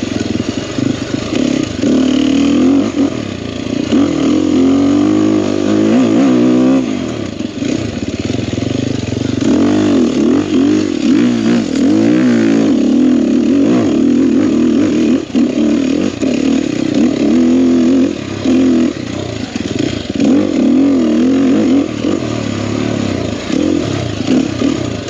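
Sherco 300SEF four-stroke dirt bike ridden on flowing mountain single track, engine loud and close throughout with continuous throttle rises and falls, no talk.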